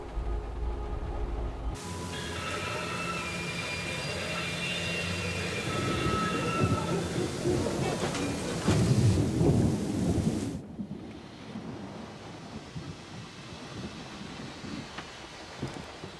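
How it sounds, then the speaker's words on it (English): Thunderstorm with rain in the Syberia The World Before video game: heavy rain hiss with a long rolling rumble of thunder that swells midway, then a quieter rain patter after it cuts off. "We can go as soon as this storm's over, probably tomorrow or the day after."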